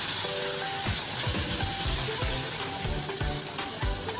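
Biryani masala, coriander powder and garam masala stirred together in a hot sizzling pan, with a continuous loud frying hiss and repeated scraping strokes of the spoon throughout.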